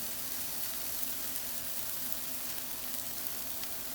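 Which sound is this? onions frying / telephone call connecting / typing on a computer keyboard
onions frying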